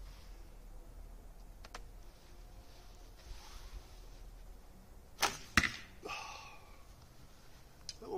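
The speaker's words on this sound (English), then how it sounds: "you hear me hitting the other arrows?" Arrows strike a target and clack against other arrows already lodged there, a few sharp close cracks and rattles over quiet outdoor background.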